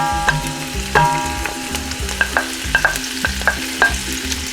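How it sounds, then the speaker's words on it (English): Chopped vegetables sizzling in hot melted bacon fat for chili, a steady close frying crackle punctuated by repeated scrapes and clinks of a utensil stirring the pan. "So now I'm going to add these vegetables"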